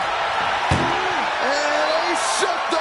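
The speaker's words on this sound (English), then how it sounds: "they shut the door and have won this ambulance match" A single loud, sharp slam as an ambulance door is shut in a WWE wrestling video game ambulance match, followed by crowd-like noise and a few tonal sweeps.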